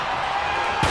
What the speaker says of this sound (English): A flat-out power into the scoop slam